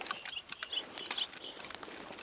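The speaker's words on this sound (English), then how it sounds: "Beautiful sound of Tarkovian birds." Birds in the Escape from Tarkov video game, a few scattered chirps and short calls at moderate distance over faint background noise.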